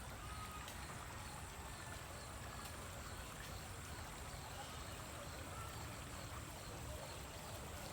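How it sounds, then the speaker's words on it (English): River water flows in a steady, broad rushing wash, constant and unbroken, heard from close by with no distinct events. "This is a river."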